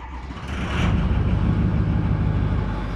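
A Ford 6.0 Powerstroke diesel pickup truck cold-starting, its engine catching and settling into a steady, loud, rumbling idle heard from inside the cab with the windows rolled down.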